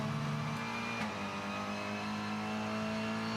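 TCR touring car lapping the 3.076-mile Tailem Bend circuit in the Kumho FIA TCR World Tour race, captured on board: a steady, loud engine drone holding near-constant revs, with no voices.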